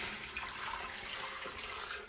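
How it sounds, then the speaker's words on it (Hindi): About half a litre of water is poured into a cooking pot for beef paya, making a soft, continuous splashing and trickling stream with no voices. "ये चले गया आधा लीटर पानी"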